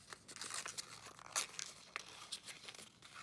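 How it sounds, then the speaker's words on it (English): Paper being folded and tucked to make an origami bookmark, quiet close crinkling and crisp rustles in a handful of short bursts, one sharper crackle in the middle, no talking. "I'm going to fold it backwards first, and then I'm going to bring it back and tuck the flap in"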